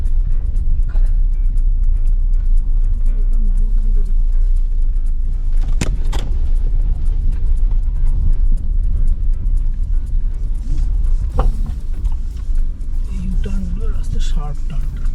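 A car climbing a winding mountain road through a tea garden near Darjeeling, with a steady low engine rumble and road noise throughout, a few sharp knocks, and people talking inside the car.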